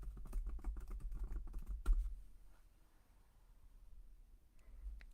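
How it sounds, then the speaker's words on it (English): Someone types the name of a knitting pattern on a computer keyboard: quick, soft, close key clicks for about two seconds, then quiet, and then a few more faint taps. "if you type into the search box Double Win Mosaic Shawl"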